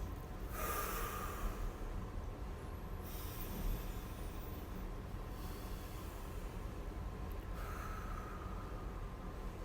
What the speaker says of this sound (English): 3 deep breaths.